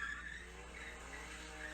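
Car tires squealing on a car with an inline six engine, a faint, sustained high-pitched screech that runs steadily over a low engine hum, alone with no voices.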